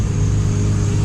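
Steady droning engine of neighbors' lawn equipment running nearby, a loud continuous low hum with no break and no voices.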